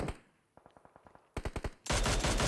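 Mini 14 rifle shots in PUBG Mobile ring out as a quick run of sharp cracks, first a string of lighter evenly spaced reports, then a louder burst of heavier shots, ending in a dense wash of loud gunfire.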